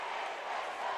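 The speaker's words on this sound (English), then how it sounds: "The Cherokee crowd loves it," A high school basketball crowd in the Cherokee gym roars in a brief, steady wash of cheering and shouting at full volume, with no single voice standing out.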